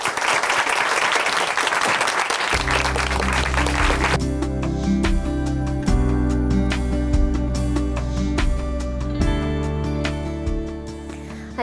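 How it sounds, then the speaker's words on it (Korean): A church audience applauds to welcome a speaker, with sustained clapping that rises at first and then continues steadily under music. "춘천 한마음교회 이지연 자매님 박수로 모셔볼게요."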